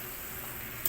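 Ground meat sizzles and is stirred in a pan while cooking adobong sitaw, a steady crackling hiss with a brief scrape of the spoon near the end.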